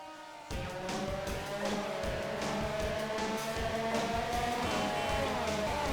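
Cars race around a track in the video game We Love Katamari, with continuous engine drone, tire squeals and skids layered over busy game music, steady and fairly loud after a quiet opening half second.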